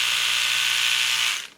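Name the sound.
My Variation electric toothbrush running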